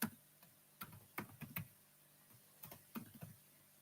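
Keys typed on a computer keyboard in short bursts of crisp clicks, with pauses between the groups, close and fairly quiet.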